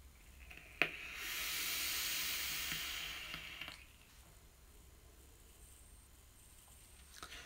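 Single-coil Dead Rabbit dripper at 0.26 ohms and around 65 watts with both airflows open, a click followed by a sustained airy sizzling draw of a few seconds, then a fade to quiet with a faint click near the end.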